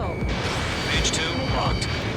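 In the jet combat game Ace Combat 7, missiles launch and explosions rumble over a steady roar of aircraft engines. The booms are loud and dense and blend into the constant din, and radio chatter talks over them.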